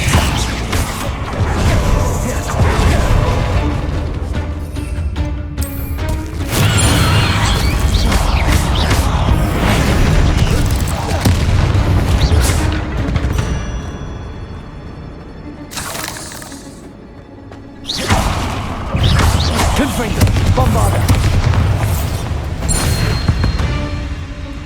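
Confringo explosion spells go off in Hogwarts Legacy amid loud combat: dense, crashing blasts and whooshes fill most of the stretch, with brief drops in level between bursts.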